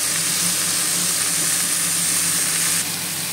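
Spice paste and chopped capsicum fry in a hot pan for a bhetki fish dish, giving a loud, steady, close-up sizzle that runs the whole time and eases slightly near the end.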